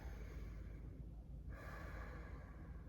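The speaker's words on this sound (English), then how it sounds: "Take a nice deep focused breath." One deep, focused breath during a fascia mobility session on a foam roller: a long, close, airy inhale that swells into a breathy exhale midway, soft and steady with no talking.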